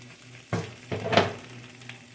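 Sausage sizzles in olive oil in a pan, a steady crackling hiss broken by a few louder bursts as the meat is stirred or turned, with no talking over it.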